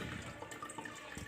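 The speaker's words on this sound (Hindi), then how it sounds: "तो इसमें देख सकते हैं कुछ पानी हमारा है, भर रहा है कुछ" Water trickles and fills inside a newly installed wall-hung toilet, a soft steady rushing and gurgle at low level with no one talking.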